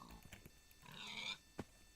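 A Minecraft pig grunts and oinks in short bursts, faint and a little distant, with a squeal in the middle and a quick grunt near the end.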